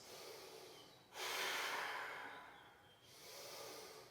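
Breathing during yoga practice comes as a slow, close inhale and exhale, one long breath swelling and easing off, followed by another, faint and unaccompanied by talk.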